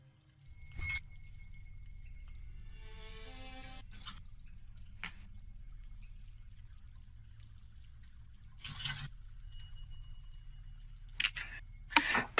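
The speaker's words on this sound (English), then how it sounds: "you can hear the slow drip of water and the trickle of a shallow subterranean stream" Water drips slowly in a cave, isolated plinks spaced seconds apart over a faint low rumble, with a brief trickling run of a shallow underground stream and a few louder splashy drops.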